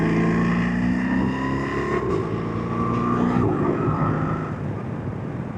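A BMW R1300RT motorcycle pulls away, its engine note climbing through loud steady revs with a gear change partway, close and continuous against rushing wind.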